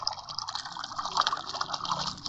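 Paint pours steadily in the mobile video game Colour War 3D, a continuous bright liquid gushing and splashing that stays fairly loud and unbroken, with no speech over it.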